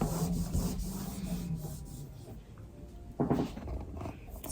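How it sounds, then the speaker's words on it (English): Soft, steady rubbing as European gold finish is worked onto an item by hand, a close, low scratchy texture that swells briefly near the end. "See, just rubbing it on."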